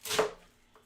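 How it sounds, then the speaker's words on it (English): A knife slices an onion in half with one crisp, close chop that fades quickly, followed by a faint tap. "So I'm going to take the onion and just slice it in half and cut off the ends"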